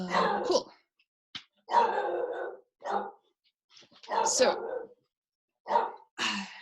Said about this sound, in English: Oh, sorry, the dog's going off.